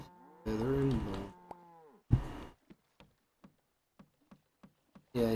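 Cattle in the Old Market Simulator video game moo in a long drawn-out call, then a second shorter moo, followed by a series of faint evenly spaced ticks and another moo starting at the end.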